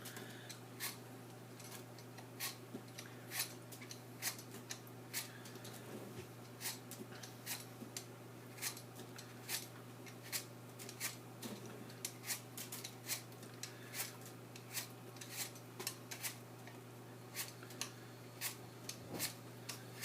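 Apples are sliced or peeled by hand for an apple cake, giving faint, sharp little clicks and cuts at an irregular, brisk rhythm over a low steady hum in a quiet kitchen.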